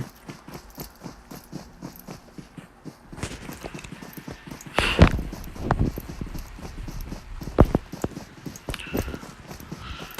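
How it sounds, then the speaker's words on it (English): Footsteps in a battle royale video game patter in a quick, steady rhythm, with heavier thuds and bursts of noise around the middle of the clip. "you can hear the footsteps"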